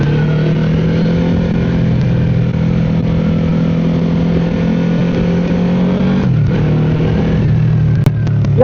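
A QJMotor SRV 600V motorcycle's V4 engine holds a loud, steady rev close by, its deep rumble sustained for several seconds before a brief dip and recovery near the end.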